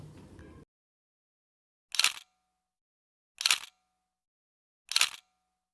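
Phone camera shutter clicks from taking a selfie, three crisp, identical clicks about 1.5 seconds apart, close and clear against silence after a short moment of background noise.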